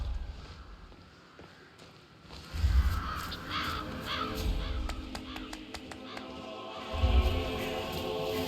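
Birds caw around nests in the Hitman video game, repeated harsh calls over a low rumbling ambience with a few heavy thuds, fairly close and with no talk.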